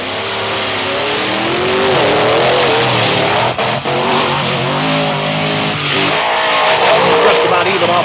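Monster trucks launch off the line side by side in a drag race, Dale Wilson in the near lane and Tom Means in the Monster Patrol in the far lane, engines roaring loud and steady with revving swells under a commentator's voice.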